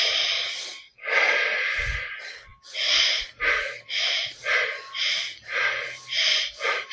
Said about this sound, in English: In, we're creating, out. Holding in.